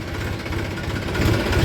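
A tractor engine runs steadily in second gear while slowing to turn in a farm field, a loud, close, rhythmic low chugging that swells slightly toward the end, with no talk.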